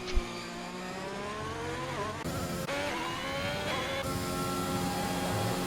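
An F1 2021 video game race car laps Monza, its engine whining up through the gears in rising sweeps with sharp drops at each shift, loud, close and alone.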